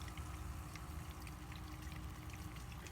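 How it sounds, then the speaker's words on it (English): Water pouring and trickling steadily through a siphon tube in a new fish tank setup, a soft, continuous gurgling flow with faint drips, quiet and close, with no voices. "see the water coming up and down this tube"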